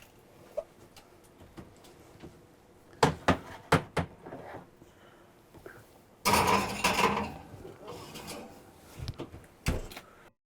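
A green bean casserole dish goes into a kitchen oven: scattered sharp knocks and clicks of the oven door and rack, then a louder burst of clattering and shuffling handling. A few more clicks follow, with no talking.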